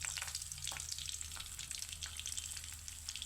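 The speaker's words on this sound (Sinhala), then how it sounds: "තෙල් එක රත් වෙගෙන ඉන්නේ." Coconut oil heats in a pan with onions and chilies, giving a steady, close, bright sizzle and crackle throughout with a few faint clinks, and no voices.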